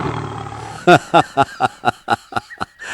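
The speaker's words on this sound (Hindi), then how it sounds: "अचानक जंगल में शेर की दहाड़ गूंजती है" Lion roaring in a jungle as a story sound effect, a series of about nine short, loud, growling roar bursts in rapid rhythm, alone and close.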